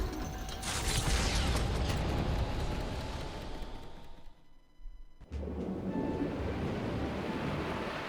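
Broad rushing ocean waves and wind at sea while a ship sails toward an island in the video game Metaphor, a steady wash that dips briefly near the middle before resuming, with no talk.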